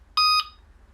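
A Delkim bite alarm gives a single short, clear electronic bleep, sharp and tonal, then quiet follows.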